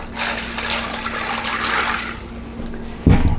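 Water poured into a casserole dish of dry pasta, a steady close splashing rush that fades toward the end before a low thump.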